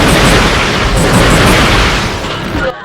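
Continuous loud, rumbling explosions from the Rhino 2 weapon in Ratchet & Clank 2, blasting a thief enemy, overlapping booms filling nearly three seconds before cutting off abruptly.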